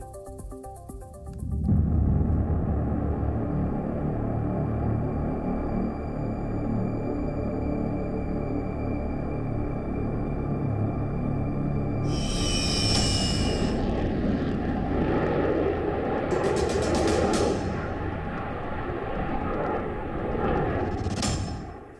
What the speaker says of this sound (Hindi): पीएम मोदी ने तेजस में भरी उड़ान।